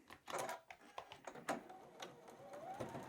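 A new Juki sewing machine stitches quilt patchwork in quick mechanical bursts of rattling needle strokes, close and fairly quiet, pausing and restarting several times.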